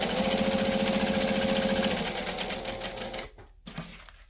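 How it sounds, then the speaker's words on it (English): A sewing machine running at a steady fast stitch, its needle clatter rapid and close, briefly shifting as it back stitches, then stopping abruptly with a couple of small mechanical clicks. "We're going to stitch, we're going to back stitch."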